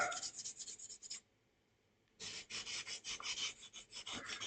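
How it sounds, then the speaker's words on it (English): A side of a canopy part on a cockpit build being sanded by hand, a close rhythmic back-and-forth rasp of quick strokes, pausing for about a second before resuming steadily. "I'll sand down the opposite side just to make sure"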